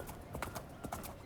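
Horses' hooves clip-clop in a steady, uneven rhythm nearby on a farm, the beats soft and slightly muffled, with a faint whinny-like tone underneath.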